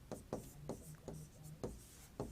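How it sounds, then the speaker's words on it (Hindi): Marker or chalk strokes on a board during a Hindi lesson, a series of short scratchy taps and squeaky drags in an irregular rhythm, close but faint, with no talk. "तो देखिए मैं यहां लिख देता हूं"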